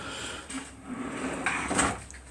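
Soft-close sliding drawer on runners in a small workshop shed, gliding shut with a soft muffled rumble and a gentle thud, close by.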